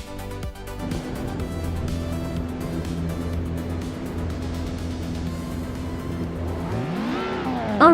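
Race cars roar around Cadwell Park Woodlands in a racing video game, engines droning steadily at high revs. A close car climbs sharply in pitch near the end, with tires squealing.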